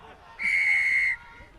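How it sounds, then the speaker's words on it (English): A referee blows one clear, steady whistle blast at a club rugby match, lasting under a second and standing out over quiet background noise. "The referee's whistle was the dominant feature."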